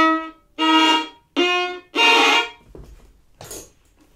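Violin with its open A string deadened by badly arched fingers: three short, dull bowed notes in a row, followed by a couple of fainter, choked sounds.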